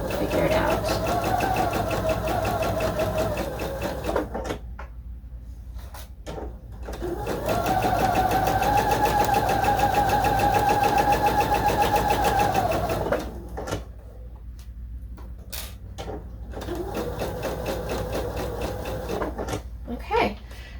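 A sewing machine stitches fabric pieces together in steady bursts, a loud whirring hum that runs for several seconds, pauses and starts again three times, with quieter handling noises between the runs.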